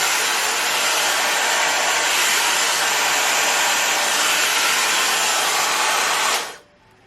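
A Dyson Supersonic hair dryer running on its highest heat and airflow setting gives a loud, steady broadband whoosh close to the mic for about six seconds, then cuts off abruptly.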